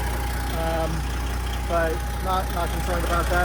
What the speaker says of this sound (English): right here, I have just a little bit of puff of exhaust coming out there.